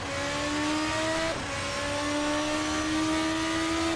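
A Formula RSS 2 open-wheel race car engine in a racing sim screams at high revs, pitch climbing steadily under acceleration with a brief gearshift dip, loud and continuous with no voices.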